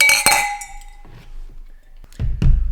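Glasses of chocolate milk clink together in a toast, a bright ringing chink near the start followed by a second clink, with dull thumps and handling noise toward the end.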